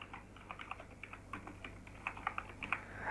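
Soft, rapid typing on a computer keyboard while building a website header, with quick irregular bursts of keystrokes heard close and quiet with no talking.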